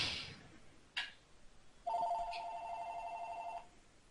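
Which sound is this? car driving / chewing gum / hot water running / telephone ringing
telephone ringing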